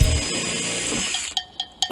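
A power drill grinds steadily through a door lock, loud and close, then drops off into a few short, sharp bursts of the drill spinning up.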